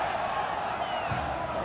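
Football crowd at the Stadio Massimino in Catania during a Serie A match against Inter, a steady dense roar of many voices filling the stadium with no single call standing out.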